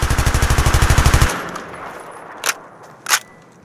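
An ACW-R rifle in Battlefield 3 fires a loud, rapid, evenly paced automatic burst of roughly a second. It stops abruptly, and two faint metallic clinks follow in the quieter tail.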